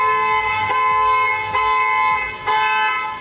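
Loud, sustained tonal squeal from a boat's outboard engine with a failing upper main bearing, a strong whine with harmonics that breaks briefly every second or so and keeps going over a low engine rumble.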